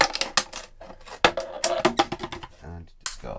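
Sharp snips and crunching cuts through a plastic water bottle, close and irregular, as the bottom is cut off with scissors; a voice briefly talks between the cuts.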